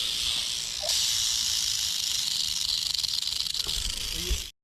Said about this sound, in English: we heard the rattlesnake rattling